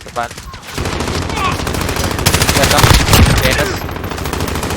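Rapid machine-gun bursts crackle in a Call of Duty multiplayer match, dense automatic fire swelling loud in the middle of the stretch with a faint voice under the shooting.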